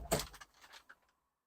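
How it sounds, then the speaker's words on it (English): Kubota L6060 tractor cab door opening: a close latch click and mechanical clunk, then a short creak and soft rattle as the door swings out, fading to quiet within about a second. "So when I open the door"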